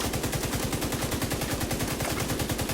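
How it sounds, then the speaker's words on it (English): Rapid automatic gunfire in the video game The Division 2, a loud, sustained stream of evenly spaced shots fired without pause, close and with no talk. "So what it does is, see, I'm shooting."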